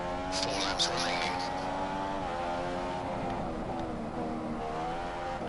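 Formula One race car engines in F1 2015 on track, a loud sustained whining drone with steady harmonic pitch shifts as the leading car holds first place, with a voice talking over it.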